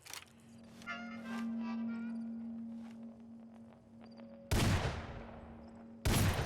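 Two loud, sharp gun blasts from a weapon in Fallout's Goodsprings, about a second and a half apart, each cutting through a low ambient hum and soft footsteps in the game world.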